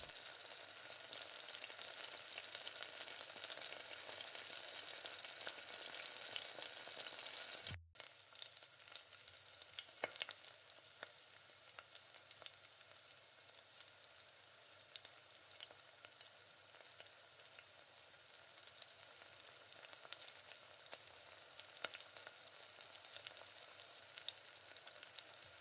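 Bonda balls deep-frying in oil in a kadai give off a continuous soft sizzle and crackle, close but quiet, broken by a brief gap partway through, with no voices.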